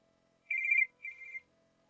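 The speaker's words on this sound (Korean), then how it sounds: "전화 받을 테니까 조용히 있어." Two electronic telephone rings, each under half a second with a short gap between, sounding clear and close over a faint steady background hum; no one speaks.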